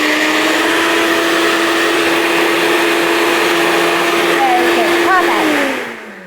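Kitchen blender liquefying cooked beetroot for chocolate cupcakes, a loud, steady whirring drone that holds for several seconds, then winds down in pitch and fades as the motor stops, with voices faintly present.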